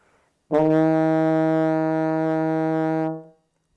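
A single sustained E flat from a baritone horn, a rich steady tone held for about two and a half seconds, then released, alone with no talk.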